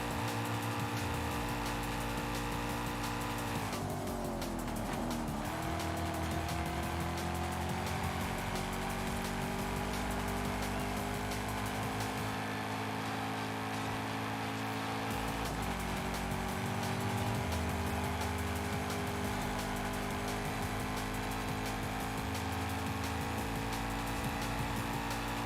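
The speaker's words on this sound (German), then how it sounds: "Fahren wir einfach ein bisschen Vollgas." A car driven at full throttle in Forza Horizon 5 gives a continuous, loud engine drone that climbs in pitch and then drops briefly at the gear shifts, with no voices over it.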